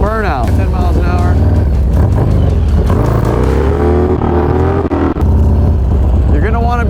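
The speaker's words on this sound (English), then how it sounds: "You're gonna wanna be in first gear, 10 miles an hour, and almost a lighter rev." A motorcycle engine revs steadily in first gear at low speed, a loud continuous drone with rising and falling pitch, close up and under a man's speech.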